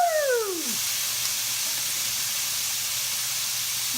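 Garbanzo beans hit hot ghee in a pan with a quick falling whoosh, then settle into a loud, steady, close sizzle that hisses on without a break.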